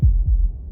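A pair of heavy, low heartbeat thuds, close and loud, in the game Slay the Princess, with nothing else heard.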